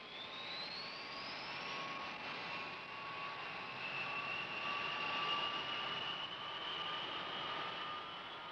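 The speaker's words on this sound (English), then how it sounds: "Everything ready, the B-52s taxi out and are soon on their way." B-52 bombers taxi out with a steady jet engine roar and a rising whine, a continuous moderately loud drone with no talking.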